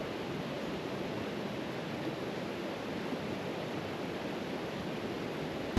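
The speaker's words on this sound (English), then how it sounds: "The sound of rushing water through the canyon was worth every step" Water rushes through a canyon at Middle Saint Vrain in Colorado, a dense, steady roar of flowing water with no pauses, close and continuous.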